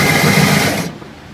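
An electric ice shaver grinds ice into fine snow with a steady, loud whirring buzz that cuts off abruptly partway through, leaving a quieter mechanical hum.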